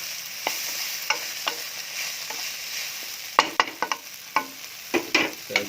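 Mie goreng ayam noodles being tossed with vegetables in a hot pan: a steady sizzle runs under repeated scraping and clattering of the utensil against the pan, with the knocks growing denser toward the end.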